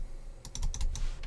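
Quick, light clicks of typing on a computer keyboard, a short irregular burst of keystrokes over a low steady hum.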